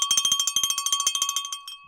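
A bicycle-style bell rung rapidly about twenty times in a steady fast rhythm, bright and loud, tapering off at the end, with no talking over it.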